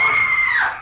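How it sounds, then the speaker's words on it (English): A short, piercing scream in an old radio mystery drama, a sustained high cry lasting under a second that bends downward and fades at the end, heard on its own. "It was at that precise moment that I heard the scream."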